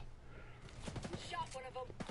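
Gunfire in the video game Ghost Recon Breakpoint: a rapid burst of several sharp shots, fairly quiet and mixed with game noise and faint voices.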